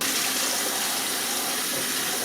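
A kitchen tap runs steadily while larger slicing tomatoes are washed under it, giving a continuous, even hiss and splash of water, loud and close with no break and no voices.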